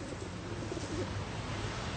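A pigeon coos softly several times, low and near against a steady background hum, with no talk.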